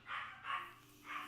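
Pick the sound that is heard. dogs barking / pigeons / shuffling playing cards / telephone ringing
dogs barking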